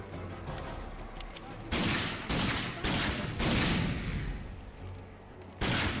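Gunfire in a video game, several loud, close bursts of shots, each a few tenths of a second long, broken by short quieter gaps, with someone talking now and then.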